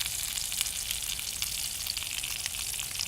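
Duck breast pieces sizzle steadily in a hot pan after being flipped, a dense, continuous frying hiss with faint crackles throughout and no talking.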